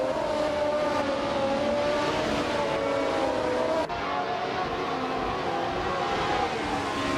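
Classic 1975 Ferrari 312 race cars in a racing video game at Mosport, engines droning steadily at high revs with a brief dip midway, loud and continuous with no voices.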